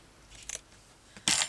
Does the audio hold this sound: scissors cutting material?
yes